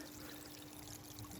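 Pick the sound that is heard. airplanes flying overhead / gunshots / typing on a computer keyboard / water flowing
water flowing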